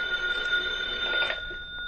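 A telephone rings in a radio drama, a steady electric bell tone held for about two seconds at moderate loudness, with no voices over it.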